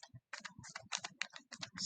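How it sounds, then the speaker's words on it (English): Calculator keys are tapped in quick succession as numbers are entered, a close, crisp run of small plastic clicks with brief pauses. "We're typing our numbers in our ordered pairs in the calculator by pressing the stat button"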